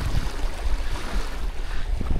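Waves washing at a lakeside fishing spot during a tench and carp session: continuous rushing water and surf noise with gusty wind buffeting the microphone, fairly loud and close, with no voices.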